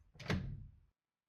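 A paw grasps and tries the knob of a locked door in a video game, giving a short rattling clunk of the handle with a brief scrape, close and fairly quiet, then silence.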